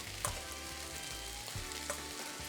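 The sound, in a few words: scrambled egg added to sizzling chaufa fried rice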